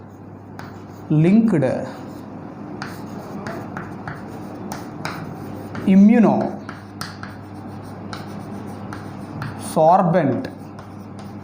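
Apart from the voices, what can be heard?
writing on a board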